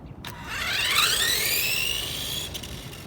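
A restored 1983 Tamiya Lancia rally RC car pulling away: its motor whine climbs steadily in pitch, holds as a loud close buzz, then drops off sharply.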